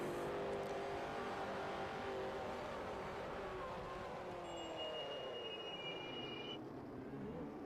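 A race car engine keeps running in a 1987 CART racing video game, a faint continuous tonal drone whose pitch drifts slowly downward with thin whining overtones.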